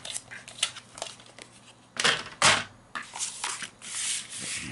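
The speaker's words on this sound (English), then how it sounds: "let's just trim off a tiny smidgen at the top here" Paper or cardstock craft piece being trimmed by a tiny amount at the top, heard as close scratchy cutting and crinkling strokes in irregular bursts, a few louder rasps, and quieter gaps between them.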